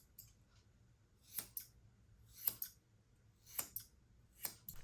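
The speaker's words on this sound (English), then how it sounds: "Take a second and listen to the accuracy and the precision this shear offers." Budget dog grooming shears snip in open air with crisp metallic clicks, six or so cuts spaced about a second apart, each one close and clear against near silence.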